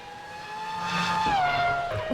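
A Ferrari Formula 1 car in a racing video game whines past at the Italian Grand Prix, a high engine tone sweeping down in pitch as it passes, with rising engine noise from another car close behind.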